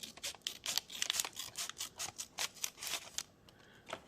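Scissors snip through the bottom of a package, a quick run of sharp, close cuts in an uneven rhythm that trails off near the end.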